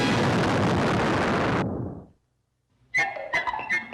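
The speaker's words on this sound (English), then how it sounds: "a giant fireball was about to explode on Penny, Will, and Professor Robinson." A giant fireball explodes in a science-fiction TV show scene, a loud roaring blast that cuts off abruptly and dies into near silence before sharp clattering sounds and other noises follow.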